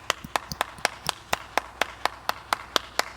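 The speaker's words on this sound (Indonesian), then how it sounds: "Tepuk tangan, tepuk tangan." Steady, evenly spaced handclaps, roughly three or four per second, sharp and close, with no voices over them.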